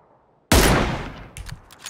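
A loud gunshot blast from a large sniper rifle in the video game PUBG, a single sharp report with a long ringing tail, followed by a few faint clicks and small impacts.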